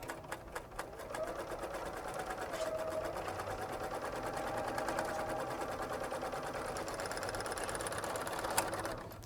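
A BERNINA serger stitching a 4-thread overlock seam, running as a fast, even mechanical chatter with a rapid repetitive rhythm throughout, steady and close, with only slight shifts in speed and no talking.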